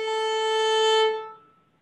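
A single bowed violin note on the A string, steady and resonant with rich overtones, held about a second before fading out.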